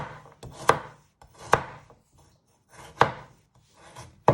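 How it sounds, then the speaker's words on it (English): A knife finely slices a peeled carrot on a board for spicy rice, giving four sharp, close chopping strokes at uneven intervals, each trailed by a short rubbing scrape, with no voices. "you just want to finely slice it into little pieces."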